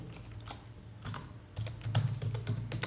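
Fingers type on a computer keyboard while writing Python code, giving close, crisp key clicks in uneven bursts with heavier thumps near the end and a low background hum.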